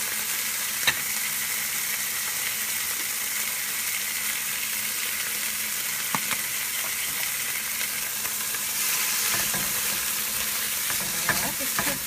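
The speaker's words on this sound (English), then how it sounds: "let this cook for about 3 to 4 minutes until the black beans start breaking down" Black beans sizzle and fry in a pan, a steady crackling hiss throughout with a few soft clicks of stirring and no talking.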